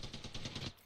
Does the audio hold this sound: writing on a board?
no